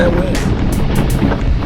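Wind batters the microphone on a group road bike ride, a steady low roar with a few sharp gusty bursts over about two seconds.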